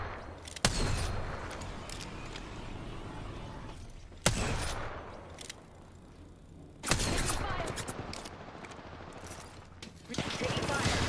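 Gunfire in the Apex Legends video game: repeated loud bursts and rattling volleys, separated by busier stretches of mixed game noise.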